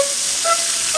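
Steak searing in a hot pan gives off a steady, close sizzling hiss that runs unbroken through the whole moment, with no voices over it.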